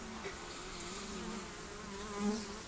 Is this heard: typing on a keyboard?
no